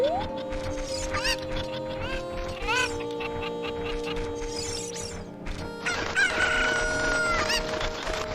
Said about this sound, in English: Some sick fuck sealed this chicken in a crate.